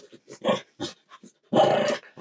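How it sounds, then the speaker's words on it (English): A playful dog growls in short bursts while tugging at a toy, close and fairly loud, with quiet pauses between the rumbling grumbles and one longer growl near the end. "there's the growling from playing"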